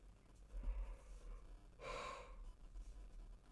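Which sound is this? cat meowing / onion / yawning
yawning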